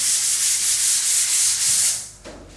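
Drywall mud being sanded by hand over a block wall patched with quickset and two finish coats, a steady close, hissing scrape with a gentle back-and-forth rhythm that stops near the end.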